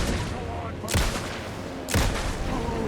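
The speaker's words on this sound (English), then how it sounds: "Aiming for that head is key, boy. The 3 shots to the head." Two loud gunshots about a second apart in Alan Wake 2, each a sharp crack with a booming tail, over steady game background.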